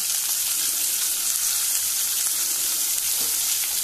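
Chopped onion and green chili fry loudly in hot oil for a Goan drumstick bhaji, a dense, unbroken sizzle heard up close.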